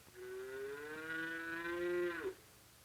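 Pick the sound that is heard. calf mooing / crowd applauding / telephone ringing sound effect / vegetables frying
calf mooing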